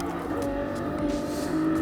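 A race car engine pulls under light throttle at Spa-Francorchamps in GT Sport, a steady, close, continuous engine tone with no talk.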